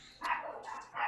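A pet dog barks a few times in quick succession, fairly close and fairly loud, with short sharp yaps and no talking over them.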